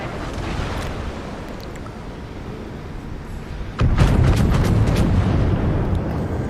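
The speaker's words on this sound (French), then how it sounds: "Là, il tire sur le Richelieu." Battleship guns of the Kurfürst firing on the Richelieu in the World of Warships video game: a steady low rumble of gunfire and sea, then a louder, sharper volley of booms bursting in partway through and carrying on.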